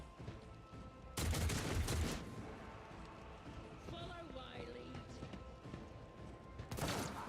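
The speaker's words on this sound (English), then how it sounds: "Good shooting that enforcer." Gunfire from an enforcer in the video game Warhammer 40,000: Rogue Trader: a dense, loud burst of shots over about a second, then quieter game ambience with voices talking, and another sharp burst near the end.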